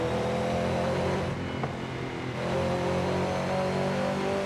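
Car engine in Forza Horizon 5 holding a steady, loud drone, with a slight dip in the middle before it climbs again; continuous and up close, with no talking.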